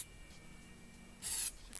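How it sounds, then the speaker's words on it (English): Brief burst of aerosol spray, likely CA glue accelerator, misted onto a bead of cyanoacrylate glue around a woodturning piece; one short, fairly loud hiss in a quiet room, followed by a faint second puff. "spray that bead of glue that's all the way around"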